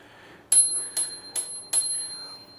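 Four quick bright rings of a cheap handlebar bell on an Engwe L20 2.0 e-bike, each ding close and clear, spaced about half a second apart over a quiet background.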